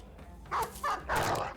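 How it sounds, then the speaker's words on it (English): A war dog in the Battle Brothers video game barks three times in quick succession, close and fairly loud, with no talking. "Let's put the dog out."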